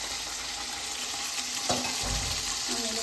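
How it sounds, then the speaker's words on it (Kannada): Shirkurma with raisins is stirred and mixed in a pan, giving a steady soft sizzle with a few faint scrapes and knocks from the spoon. The sound stays close and fairly quiet, and no one talks. "ಸ್ವಲ್ಪ ಮಿಕ್ಸ್ ಮಾಡೋಕೆ"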